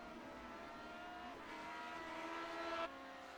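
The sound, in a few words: race cars driving in iRacing video game (Grand Prix Legends)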